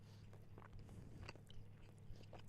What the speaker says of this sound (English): So you'll just have to deal with me chewing.